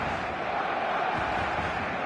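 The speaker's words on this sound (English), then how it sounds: "There's a real expectant buzz in the stadium" Before a football match, an expectant stadium crowd gives off a broad, steady buzz of many distant voices. The murmur holds at an even level without distinct cheers.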